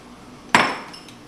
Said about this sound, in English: add your white chocolate chips